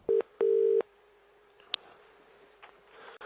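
Telephone keypad tones beep as a call is placed to a production company, two short dial tones then a longer one, followed by a faint click and quiet line hiss.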